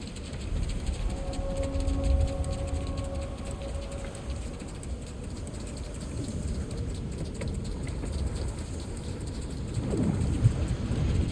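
Steady rain pours across a stormy desert in the video game God of War Ragnarok, a dense continuous hiss with low rumbling underneath, swelling slightly toward the end, with soft musical tones drifting in early.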